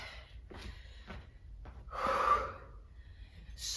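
Hard, sharp breaths and gasps from a person doing a dumbbell HIIT workout, several short huffs and then a longer, louder exhale, close to the microphone.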